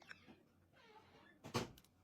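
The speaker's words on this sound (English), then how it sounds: "Close the door." A door closes indoors with a single sharp knock and brief rattle after quiet shuffling, with faint voices in the room.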